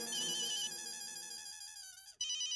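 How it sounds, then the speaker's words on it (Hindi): A phone ringtone sounds in a sitcom scene, a bright repeating electronic melody ringing alone and fairly loud, breaking off briefly before the tune starts again. "जेठालाल का फोन"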